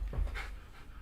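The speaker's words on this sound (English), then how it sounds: "my dog is going stupid" A pet dog pants in a few quick, fairly quiet breaths close by indoors.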